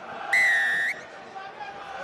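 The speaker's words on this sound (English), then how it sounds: "blasts on his whistle to get things going here at Rodney Parade" A referee blows one sharp, loud whistle blast of under a second to start a Dragons versus Sharks rugby match at Rodney Parade, with crowd murmur behind it.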